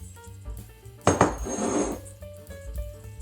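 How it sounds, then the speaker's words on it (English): Scallops dropped back into a pan of pasta and wine sauce hit with a sharp clatter, then a wet sizzle swells for about a second over a quiet background. "now I'm going to add my scallops back into the"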